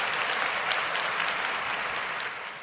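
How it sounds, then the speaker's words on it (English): Sustained applause from a crowd, a dense steady clatter of clapping that fades slightly toward the end. "Give that man some applause."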